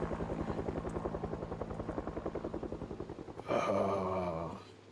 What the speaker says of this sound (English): helicopter event came and went